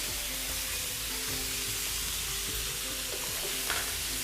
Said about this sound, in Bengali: একটু বড় বড় করে কেটে পেঁয়াজ দিই